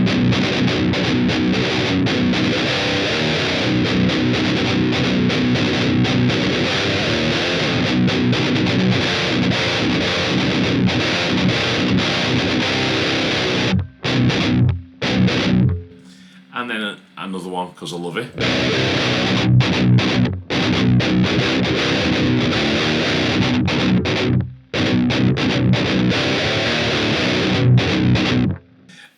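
Electric guitar through a TONEX amp model on a distorted high-gain preset, thick sustained chugging riffs with a couple of brief breaks, loud, with someone talking over parts of it.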